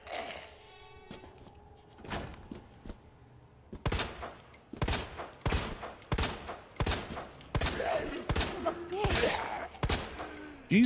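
Zombie-fighting gunfire in Resident Evil 2 Remake, with a string of loud, close shots that are irregular and sometimes quick-fire, broken by metallic clicks and thuds and sitting over low, dim game ambience.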